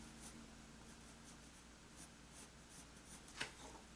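Pencil drawing on paper while sketching a turkey vulture's feathers, heard as faint soft scratchy strokes in a quiet room, with one slightly sharper scrape near the end.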